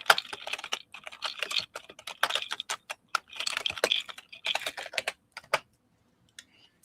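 Bursts of rapid typing on a computer keyboard, close and fairly soft, in several uneven runs with short pauses, then stopping and leaving near silence at the end.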